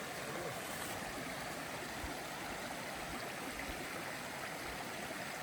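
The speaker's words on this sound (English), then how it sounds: "Nice little stream here." A small stream near Franklin, North Carolina, flows with a steady, soft, continuous rush of water that stays even throughout, with no voices.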